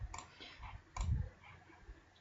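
Two sharp computer mouse clicks about a second apart, faint and close against a low, quiet room background.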